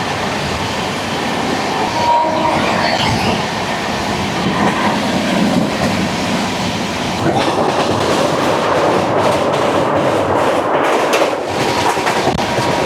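A Humsafar Express sleeper train passes Beas Junction with a steady, loud rolling roar and rhythmic clatter of wheels over rail joints. The noise holds constant at close range throughout, and no one speaks.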